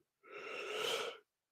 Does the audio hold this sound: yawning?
yes